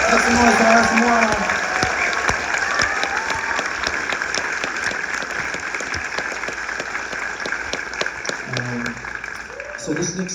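A concert audience at a show in Wellington, New Zealand, claps and cheers in a steady, dense wash of applause. It stays loud throughout and fades slightly toward the end, where a voice briefly begins to speak.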